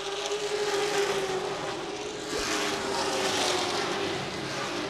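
Racing trucks of the Midwest Truck Series rolling through the turns at Seven Rivers Racing, a steady, loud roar of engines with a sustained tonal drone that swells slightly midway and carries no talk.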